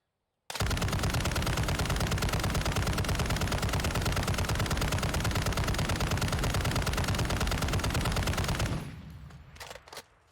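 A RAL MG machine gun in Warzone 2 fires one long unbroken burst of rapid, loud, evenly spaced shots for about eight seconds, then stops, leaving a few faint clicks and rattles.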